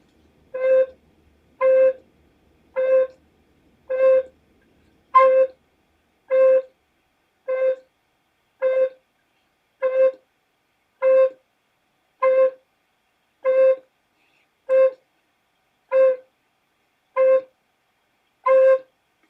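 An alto recorder plays the same C note over and over in evenly spaced short toots, about sixteen in steady rhythm, each clean and separate with silence between, close and alone.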